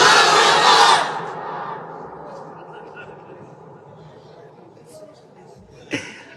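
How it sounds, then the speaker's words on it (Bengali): A large crowd shouts the takbir, Allahu Akbar, in unison in one loud, massed burst that cuts off after about a second, then leaves a low murmur and a brief sharp noise near the end. "তোমরা তাকবীর দাও এবার, দেখি তোমরা পারো কতটুকু।"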